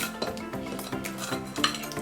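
A mixture for golden hedgehogs is pressed firmly into a metal ice cream scoop with a spoon, producing repeated close scraping and clinking of metal against metal in an uneven rhythm.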